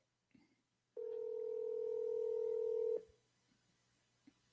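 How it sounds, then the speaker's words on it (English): A single steady dial-type telephone tone sounds for about two seconds while a call is placed to Kyle Long, then cuts off, leaving a quiet line with faint clicks before and after. "I'm calling Kyle right now."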